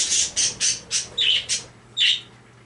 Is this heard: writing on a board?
no